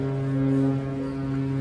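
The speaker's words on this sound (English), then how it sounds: "the captain is honking the horn" A cruise ship's horn sounds as one deep, sustained, steady blast, loud and droning throughout without a break.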